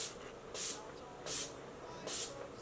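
Urban Decay setting spray mists onto a face in three short, soft hissing bursts spaced about three-quarters of a second apart, close and quiet.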